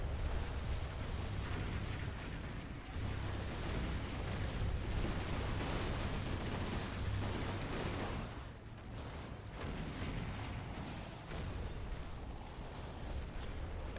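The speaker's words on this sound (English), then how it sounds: "Yet again, we have some heavy bombardments here." Heavy bombardment in the Rise of the Reds strategy game, a sustained roar of overlapping explosions and artillery rumble that runs almost unbroken and loud, dipping briefly before building back up.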